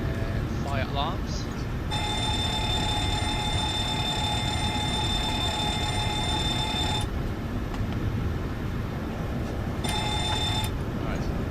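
A cockpit fire alarm test in a flight simulator game sounds as a loud, steady electronic ringing bell for about five seconds, stops, then rings again briefly, over a constant hum of cockpit background noise.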